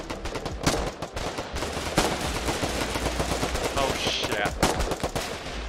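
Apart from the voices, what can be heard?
gunfire shooting at infantry in a video game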